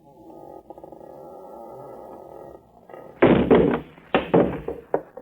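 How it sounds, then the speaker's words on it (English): In a 1940s radio espionage drama, a door is shoved open: a low muffled rumble gives way to a loud wooden bang, then several heavy knocking thuds and scrapes, with no voices. "I'm going to shove the door open, shine my light in"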